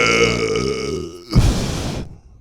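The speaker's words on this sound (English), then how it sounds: "The burps?" A single deep, guttural burp rumbles out for over a second, then breaks into a short rough burst before trailing off into quiet; close and loud, with no other voices.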